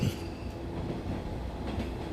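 An anime train ride gives a steady low rumble of a moving train, a dense rolling drone with faint rattling, heard alone without talk.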